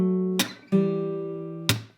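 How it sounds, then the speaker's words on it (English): Percussive hand strikes slap guitar strings against the frets, three sharp bright hits over a sustained low ringing chord that decays between them, close and clear with no talking. "what you're hearing there is actually the strings touching the frets"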